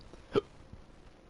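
A single short hiccup bursts out clearly at close range and stands alone against a quiet room background.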